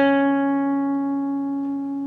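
Guitar sustains a single bent note with vibrato from a lick played at the 6th fret of the G string, ringing steadily and slowly fading, close with no other sounds.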